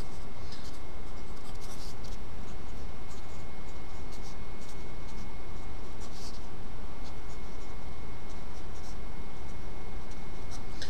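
Pen on paper writing out a trigonometry formula, continuous close scratching strokes with small taps, steady throughout and alone with no talk.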